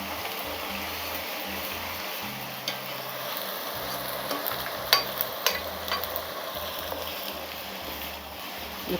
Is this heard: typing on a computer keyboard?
no